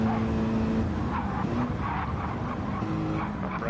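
Race cars roar through an overtake at Daytona in a racing video game, engines howling loud and close with tyre scrub and squeal, a continuous blend of several cars running side by side.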